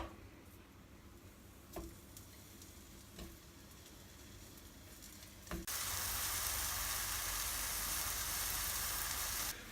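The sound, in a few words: food dropped into a pan, sizzling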